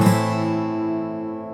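A single guitar chord from a song, fingered on the first fret, is strummed once and left to ring, fading slowly over about a second and a half with no talking.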